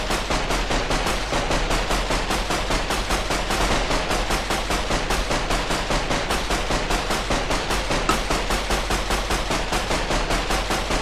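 Sustained automatic gunfire from the Minecraft nuclear tech mod's HBM space fork, a dense, relentless stream of rapid shots continuing evenly for over ten seconds, loud and close.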